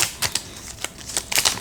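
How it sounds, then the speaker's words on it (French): Thin Saint Seiya Kayou trading cards, five from a freshly opened pack, are spread across a surface in a quick run of crisp, close clicking and slapping flicks. "j'écarte les cartes"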